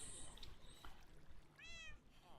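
Minecraft cat giving two short, close meows near the end, over a soft in-game background with some rustling.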